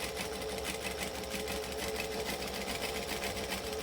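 Close, continuous whirring of a sewing machine as it runs a line of stitching along the very edge of a fabric flap, steady and unbroken throughout.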